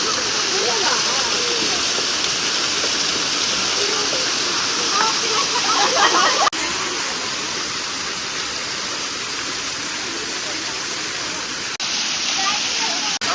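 At Courtallam's Old Kutralam waterfall, where people are bathing, water pours down in a constant loud roaring rush. It is heard up close, with some voices mixed into the noise.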